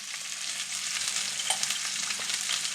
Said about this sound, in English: I'm just going to dump those into my skillet